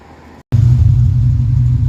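Car engine idling with tailpipes off and open mufflers: a loud, deep, throbbing exhaust rumble that cuts out briefly, then returns harder and steady, close by with no talk.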